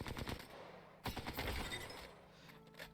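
A light weapon in Apex Legends fires full auto in two sustained bursts, a rapid loud rattle of shots with a short break between them and no talk over it.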